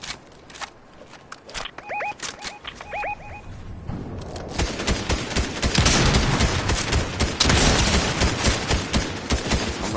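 Fortnite gunfire crackles in rapid bursts, sparse at first with a few quick electronic tones, then thickening into dense, loud sustained shooting with many overlapping shots.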